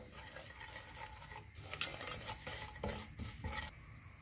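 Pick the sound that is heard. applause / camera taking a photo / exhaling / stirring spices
stirring spices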